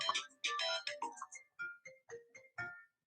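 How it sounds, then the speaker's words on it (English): A phone rings with an incoming call, playing a bright melodic ringtone as a quick run of tonal chimes that slows into spaced single notes, clear and alone. "Oh, we got a call."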